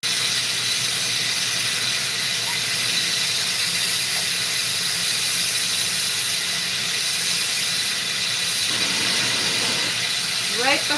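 A glassblowing torch flame heats a pipe, giving a steady, close, broadband roaring hiss that holds throughout with a few faint squeaks on top.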